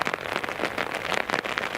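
Rain at Newcastle International Airport falls steadily on a nearby surface, a dense close patter of drops with no voices.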